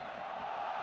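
Football crowd at a Concacaf Nations League qualifier between El Salvador and Jamaica, a steady sustained roar of massed voices chanting oles from the stands, distant and continuous without pause.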